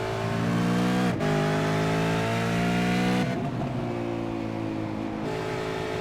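A V8 Supercar race car roars past at Suzuka, its loud engine note holding steady and then shifting pitch as it changes gear and drives away, with continuous track noise throughout.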